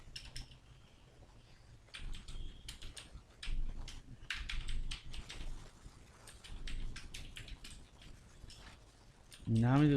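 Typing Python code on a computer keyboard gives quick, uneven key clicks that come and go in bursts beneath steady talking, ending in a louder stretch of sound.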